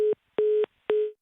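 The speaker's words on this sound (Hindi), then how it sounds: "फोन लाइन का कनेक्शन डिस्कनेक्ट हो गया" Three short, evenly spaced electronic beeps cut through a silent phone line, a call-drop tone signalling a live call being disconnected, each tone clipped off sharply, the last fading out.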